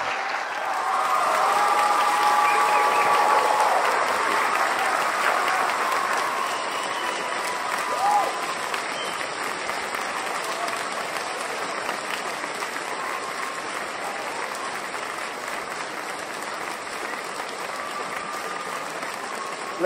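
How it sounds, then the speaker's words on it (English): An evening lecture audience claps to welcome the speaker onstage, a broad, sustained wash of applause that swells early and then holds steady for about twenty seconds. "A round of applause for Graham Hancock,"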